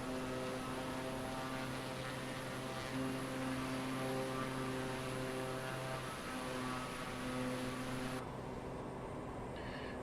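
Light propeller aircraft engine in Microsoft Flight Simulator, a steady droning hum with strong harmonic tones holding at constant loudness throughout, with no one speaking.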